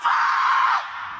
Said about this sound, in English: I don't know who was screaming